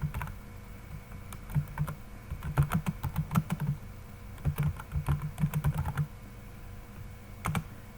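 Keys tapped on a computer keyboard while entering text into a Microsoft Excel salary slip, arriving in quick irregular bursts of close, crisp clicks with short pauses between, no voices present.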